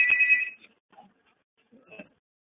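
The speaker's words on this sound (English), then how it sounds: "sorry, the phone rang." A telephone rings once in a loud, bright electronic trill that cuts off after half a second, followed by quiet room noise and a faint distant blip.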